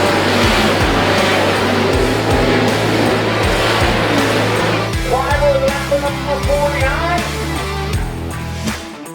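Race cars running three wide through a turn at a VLN Endurance Championship round, several engines roaring close by with pulsing revs and gear changes that shift into overlapping passing tones as the pack moves through.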